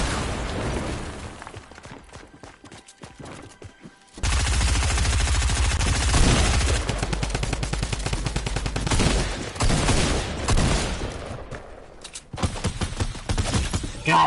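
Rapid gunfire bursts from Fortnite combat, including a pump shotgun and rocket launcher fire. Dense volleys and blasts come in loud stretches with quieter gaps between them, and speech may be mixed in.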